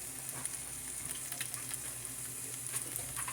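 Greens frying in bacon grease, a soft continuous crackle and pop of hot fat, faint and steady throughout.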